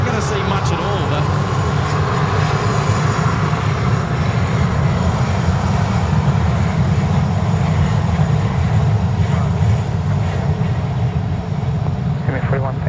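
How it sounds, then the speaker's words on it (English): Airliner beginning its takeoff roll at Sydney Airport, a steady loud jet engine roar held throughout at fairly constant distance, with people talking over it. "this is where they start their roll-off, their roll for takeoff"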